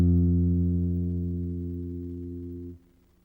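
A single sustained bass guitar note, F fretted on the D string, rings clearly and alone, decaying slowly before being cut off near the end.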